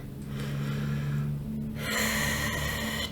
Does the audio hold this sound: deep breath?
yes